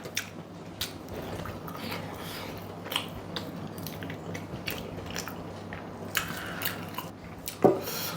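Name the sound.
chewing while eating rice with chicken curry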